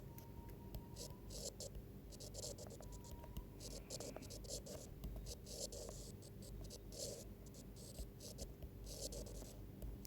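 Writing on a surface during a classroom-style lesson, a faint continuous rubbing and scratching of strokes over a steady background hiss and hum, quiet and somewhat distant, without speech.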